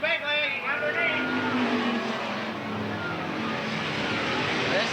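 Race cars roaring around Eugene Speedway in close racing, loud continuous engine drone with shifting pitch as cars pass, under an announcer's running commentary.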